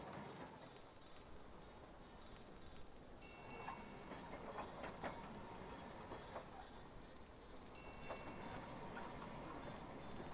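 A train rolling along tracks in the puzzle game Gorogoa, a soft steady rumble with a few faint clicks and light metallic accents, heard alone and at low volume.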